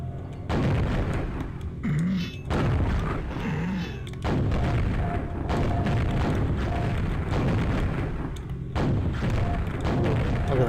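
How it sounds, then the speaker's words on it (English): Gunshots in Quake on the Sega Saturn, heavy booming blasts fired in a rapid run of repeated shots, loud and close, with a low rumbling game backdrop and brief pauses between volleys. "Look at them well-placed shots."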